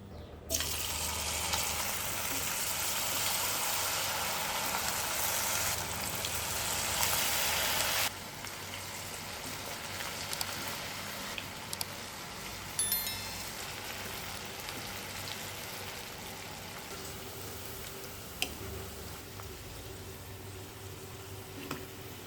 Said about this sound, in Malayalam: ചക്കക്കുരു നന്നായിട്ട് ഫ്രൈ ആയിട്ടുണ്ട്